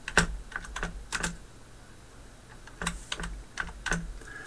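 Computer keyboard typing in short bursts of crisp keystrokes, entering a new page name, with brief pauses between clusters; close and moderately quiet, no voices.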